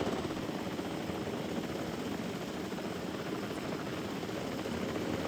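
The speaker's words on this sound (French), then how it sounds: "ils envoient un drone à l'intérieur pour checker les dinos" A drone in Jurassic World Evolution 2 hums and whirs steadily throughout, a continuous rotor-like buzz at moderate level with no pauses and no voices.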